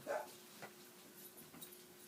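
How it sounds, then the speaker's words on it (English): Dogs scuffle and whimper somewhere indoors, a short yelp at the start followed by faint intermittent whines and yips at a distance, quiet throughout. "I swear those dogs need to stop fighting like it's."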